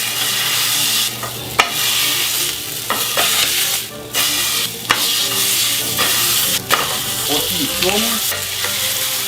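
Pork roast searing in a dry pan heated to 200 degrees, turned with tongs, giving a steady close sizzle and crackle throughout, with brief clatters of metal and a short spoken remark.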